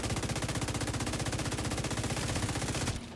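Rapid automatic gunfire in a video game, a dense, loud stream of shots firing steadily for about three seconds before cutting off abruptly.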